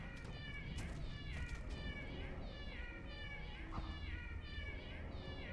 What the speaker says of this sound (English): this cat is annoying